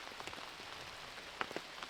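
Steady rain falls on surfaces at a disc golf course, making a soft, continuous patter with scattered close drop hits.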